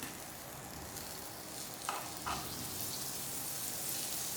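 A tablespoon of butter melting in a frying pan over a low flame gives a soft, steady sizzle, with two brief scraping clicks midway, no talk.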